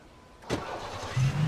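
Car engine cranking and catching in the Alan Wake video game, a short starter burst followed by a low rough idle, fairly close and moderately loud.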